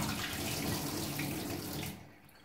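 Water gushing steadily from a swirled bottle as a vortex forms inside, a continuous pouring rush that cuts off abruptly near the end.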